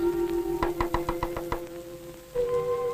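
A run of about six quick knocks on a door rings out in a steady rhythm over soft music, followed by a held tone.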